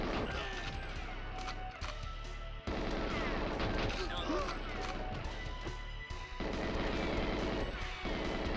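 Guards firing at the player in the GoldenEye 007 video game, dense bursts of gunshots and crashes running almost continuously at close range, with talk over parts of it.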